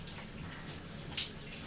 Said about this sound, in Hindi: बर्फीले पानी में नहा रही थी